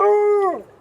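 A dog lets out a single loud, close howl with a steady tone that bends downward and trails off, alone with no talk.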